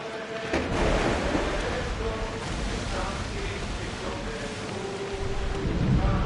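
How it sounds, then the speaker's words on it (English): A thunderstorm at sea in Assassin's Creed Odyssey: steady heavy rain hiss with low rolling thunder rumbles and a few sharper cracks, continuous and fairly loud throughout. "That storm looks nasty."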